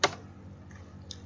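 A few keystrokes on a computer keyboard while entering a value in Excel: one sharp tap at the start, then a couple of faint, quieter clicks spaced apart, close by and with no voice.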